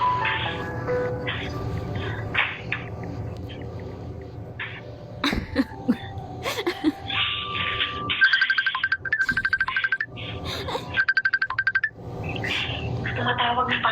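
Phone ringtone for a call from papa, heard as two clear trilled electronic bursts in the second half over soft background music, with coughs and some talk earlier.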